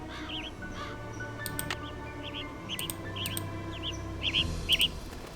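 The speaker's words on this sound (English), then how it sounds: "That was the yellow bird." A yellow bird calling in the Nancy Drew game, repeated short chirps and whistled tweets scattered across the clip, with crisper closer calls near the end over a soft ambient background.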